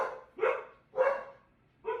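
Dogs bark three times at a steady, roughly evenly spaced pace, moderately close and clear, with no talking.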